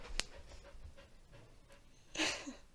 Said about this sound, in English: The dog is back in the room.